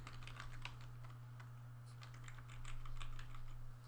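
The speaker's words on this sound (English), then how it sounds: "Hard to talk and type at the same time." Rapid keystrokes clatter on a computer keyboard in an irregular stream, close and fairly quiet over a steady low electrical hum, with no talking.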